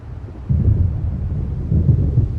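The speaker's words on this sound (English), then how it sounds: "It seems there's a storm coming." A storm gathering in Alan Wake Remastered: deep, low rumbling of thunder and wind that swells around the half-second mark and again near the end, steady and dark with no voices.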